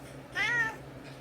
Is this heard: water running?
no